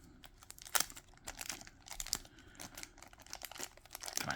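A plastic baggie holding a figure's stocking is handled and pulled open during an unboxing, giving close, continuous crinkling and rustling with sharp crackles and small tearing bursts throughout.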